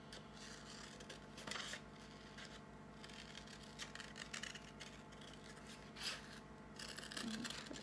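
Scissors cutting paper for a 3D snail craft: quiet, close snipping and rustling of paper at an uneven rhythm, with a few louder cuts spread through the stretch and no talk.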